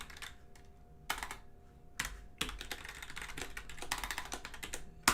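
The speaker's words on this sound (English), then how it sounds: "I can't talk and type at the same time." Someone types on a computer keyboard, a close, brisk patter of key clicks with a few louder strikes and short pauses, over a faint steady hum.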